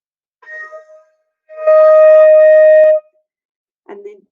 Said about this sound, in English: So E flat sounds like this.